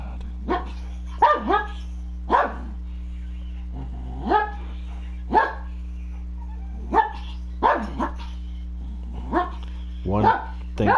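Several dogs bark, yip and whimper in short bursts while roughhousing on a farm, close to the listener over a steady low hum, with a voice talking among the barks.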